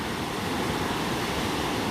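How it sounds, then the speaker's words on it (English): Ocean waves cresting on a bright day near the shore, a continuous broad roar of surf mixed with wind noise, steady and fairly loud with no voices. "when the waves are cresting"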